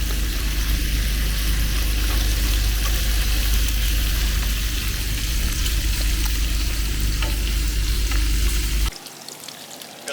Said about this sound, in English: On this big griddle, just cooking up a whole batch of bacon